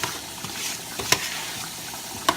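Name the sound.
stirring Parmesan cheese into risotto in a pan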